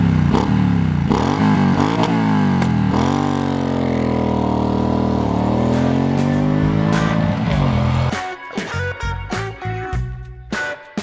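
A 2017 Triumph Street Scrambler motorcycle engine rumbles loudly while riding, its pitch rising and falling through gear changes before dropping to a choppy, sputtering idle with clatters near the end.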